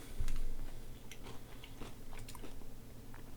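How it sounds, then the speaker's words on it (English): A person chews food with soft, wet, close mouth sounds and faint crunches. The chewing runs steadily at low volume and no one speaks. "1 second, let me chew"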